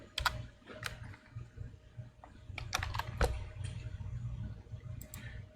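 Quick bursts of keystrokes on a computer keyboard as a name is typed, close and fairly quiet, clustered taps with short pauses over a low steady hum.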